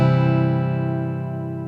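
Full open acoustic guitar chord strummed across all six strings, low E fretted at the third fret, ringing alone and decaying slowly.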